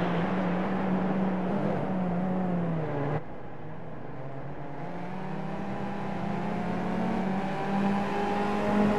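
Skip Barber race car engines in iRacing drone steadily with a strong tonal whine, one engine dropping abruptly as it shifts, then climbing again in a long rising pitch, with no talk over it.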